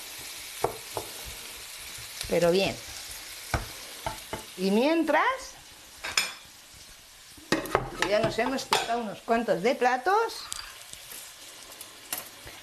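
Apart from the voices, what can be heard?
onion and pepper sautéing in a pan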